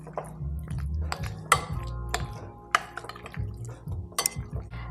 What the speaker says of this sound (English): And we're going to mix that in.